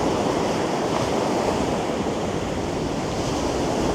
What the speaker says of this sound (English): just listening to the sea and the waves